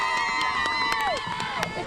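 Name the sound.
packed arena crowd before a high school basketball game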